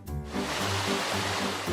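Idiot Creek in Oregon flows steadily with a broad, continuous rushing wash that stays close and fairly loud throughout, alone with no voices.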